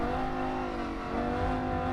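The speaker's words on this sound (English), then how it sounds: "That's the important thing with audio from an engine noise in a racing simulator" A race car engine in the racing simulator game Rennsport, holding a steady, buzzing high-rev drone with a slight pitch wobble, loud and continuous without voices.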